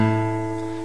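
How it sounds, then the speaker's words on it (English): A single guitar note, A, fretted at the 5th fret of the low E string, rings steadily and clearly on its own and slowly fades over under a second. "And the note that you're hearing now is A"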